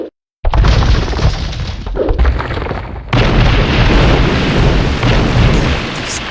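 Gunpowder ships fire in a video game battle, a loud sustained barrage of booming cannon blasts and shattering explosions that rolls on continuously with a brief lull, then surges again.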